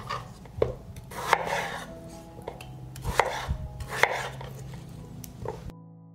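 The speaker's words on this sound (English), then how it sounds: "I will cut up 5 large potatoes." A knife chops through five large potatoes on a board, a steady series of thudding cuts at irregular intervals, close and loud.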